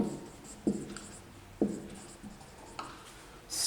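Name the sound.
writing on the board during a lesson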